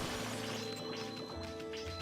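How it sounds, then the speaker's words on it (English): Clay pots shattering in the video game Okami HD, a dense run of crashes and whacks over steady game music and effects, with no talking. "pot smashing time!"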